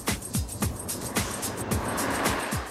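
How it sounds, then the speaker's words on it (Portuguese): Several cars speed past one after another on a highway linking the Distrito Federal and Goiás, each a loud close whoosh with falling pitch, in quick repeated succession. "Nessa estrada que liga o Distrito Federal ao estado de Goiás, os carros quase sempre passam a mais de 80 km por hora"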